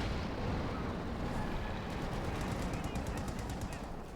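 Machine-gun fire from an MG42 in the World War II strategy game Company of Heroes 2 rattles steadily through a dense, noisy battle mix, with a commentator talking over it throughout.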